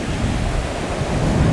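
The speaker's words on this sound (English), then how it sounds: "Look at these waves" Ocean surf at Rialto Beach, Washington, a loud, steady broadband wash of breaking waves mixed with wind rumble on the microphone, with no voices.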